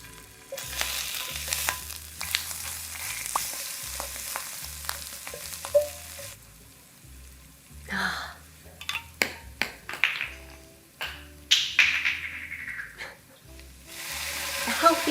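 Garlic and Calabrian chili pepper paste fry in olive oil with a steady close sizzle, broken by stirring scrapes and clinks and a louder burst of crackling as more goes into the pan.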